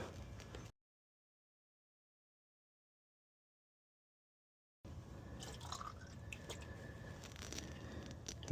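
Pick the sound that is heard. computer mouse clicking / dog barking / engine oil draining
engine oil draining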